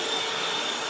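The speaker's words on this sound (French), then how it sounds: "On allume l'aspirateur" A vacuum cleaner, switched on alongside a tool making a 45-degree cut, gives a steady loud whooshing roar with a thin high whine running through it, close by and alone.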